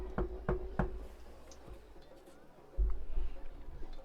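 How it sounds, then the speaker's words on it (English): Three sharp knocks on a wooden door in quick succession, close and distinct, followed by a quieter pause and a low thud near the end. "So you knock on the door."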